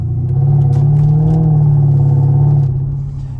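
A 2009 Mercedes SL550 R230 with a high-powered V8 holds a steady, loud, deep rumble for about three seconds, easing off slightly at the end, with no talking.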